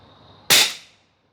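A single sharp, loud crack from a Huben GK1 PCP air pistol, with a bright hissing burst that fades over about half a second, following a faint steady hum.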